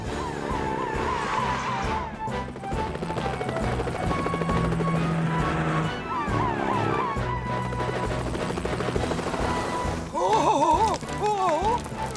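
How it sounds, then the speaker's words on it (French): A cartoon rescue helicopter from Fireman Sam thrums steadily with a loud, continuous rotor drone throughout, mixed with music and brief crashes, louder and busier near the end. "Elvis, rejoins Tom et prenez l'hélicoptère."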